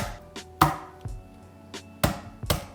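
A knife chops ingredients for s'mores bars into smaller pieces on a cutting board, several sharp, irregular thuds spaced apart, close and clear with no talking.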